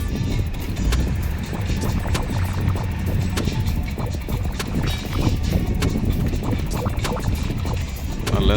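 Speed boat engine droning steadily on the Alappuzha backwaters, a continuous rumble mixed with water rush and wind buffeting the microphone throughout.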